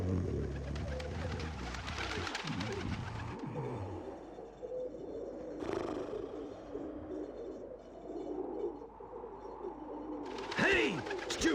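Pigeons coo in the PlayStation game Legend of Mulan, soft throaty calls blended into a busy game soundtrack, with a sharper burst near the end.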